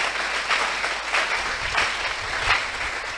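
A church congregation at a Sunday worship service applauds the Lord with dense, loud, sustained clapping in rhythmic surges, filling the whole space. No speech can be made out.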